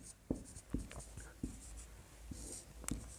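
Chalk or marker strokes on a classroom board during a Hindi-language maths lesson, a series of short scratchy taps and scrapes in an uneven rhythm, close and moderately loud with no voice.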